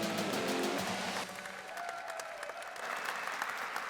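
Hall of Fame induction crowd cheering for Villanova runner Sonia O'Sullivan, a dense wash of clapping that is loudest at first, then eases slightly and carries on steadily with no talking over it.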